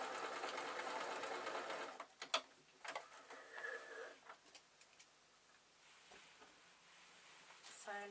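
A sewing machine stitches two lines along a gather, whirring steadily for a couple of seconds before falling into sparse ticks and clicks, with light handling noise and a quiet voice nearby.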